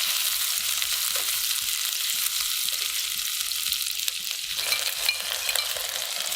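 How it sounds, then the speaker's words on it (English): Shallots, garlic and chopped red chili sauté in a hot pan. A dense, continuous hiss holds steady throughout, with faint scraping knocks of stirring beneath it and no voices. "Now, saute shallots and garlic until fragrant."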